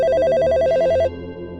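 A mobile phone rings with a steady electronic warbling tone, loud and close, repeating rapidly for about a second before cutting off, leaving a low background hum.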